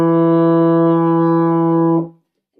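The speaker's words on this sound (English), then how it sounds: "Next, we're going to move on to E, which is just your second valve." One long, steady euphonium E note, played with the second valve, warm and close, held for about two seconds before stopping cleanly.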